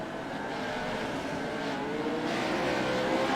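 Race cars run at a pre-race event for the Jones BS All Star, a steady, loud engine drone with some revving throughout, no voices.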